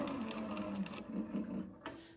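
A Cobra 26 leather sewing machine stitches in reverse, a fast rapid mechanical whir and clatter running steadily before cutting off near the end.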